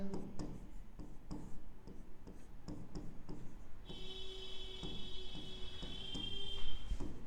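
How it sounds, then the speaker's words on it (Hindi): A pen scratching out an explanation on a writing surface makes quick, irregular ticking strokes throughout, with a faint steady tone entering partway through. "तो मैं यहाँ पे एक्सप्लेनेशन लिख देता हूं।"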